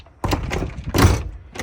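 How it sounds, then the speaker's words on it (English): A door fitted with a new locking handle set swings open, with a latch clunk and a solid thump, then a softer knock, close and fairly loud. "And if we open the door,"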